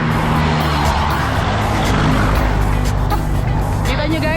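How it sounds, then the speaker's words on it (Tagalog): Cars and other vehicles speed past on a roadside near the Capas–Botolan bridge, a steady loud rush of engine and tire noise with passing swells, while someone talks over it. "Kita nyo guys kung gaano kabilis yung mga sasakyan."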